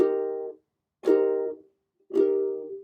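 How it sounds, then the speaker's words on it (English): A single ukulele F melody note is plucked three times in an even rhythm, each ringing briefly and fading before the next, close and clean. "there's a single F note, melody note there in there,"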